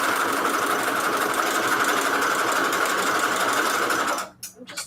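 Sewing machine running a zigzag stitch for a junk journal project, a loud, steady buzzing whir nearby that stops abruptly near the end, leaving a few faint clicks.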